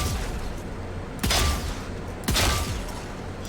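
Two sharp Sheriff pistol shots ring out in the video game Valorant, spaced about a second apart, each a loud crack over a steady game ambience with no talking.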